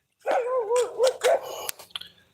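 Dogs bark and yelp in a brief scuffle at close range, several quick overlapping barks followed by a few sharp yips trailing off, loud and without talk.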